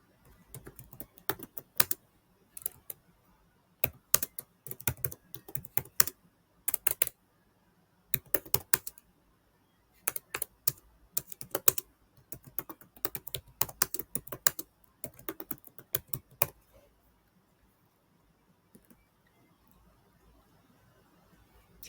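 Irregular bursts of typing on a computer keyboard, quick clusters of clicks broken by short pauses and ending in a quiet stretch, heard up close without speech.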